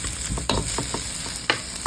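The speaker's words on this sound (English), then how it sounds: "we're going to throw in the leftover marinated sauce along with the lightly fried beef." Leftover marinade and lightly fried beef for bistek tagalog sizzling in a pan, a loud, constant hiss broken by a few sharp spatters and clatters, two standing out clearly, heard close with no voices.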